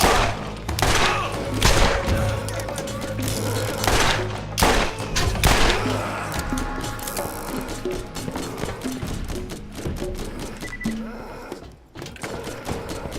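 Dense, continuous gunfire and action in Borderlands as a slow-firing SNS machine gun fires, with repeated shots and impacts layered over game music and effects throughout.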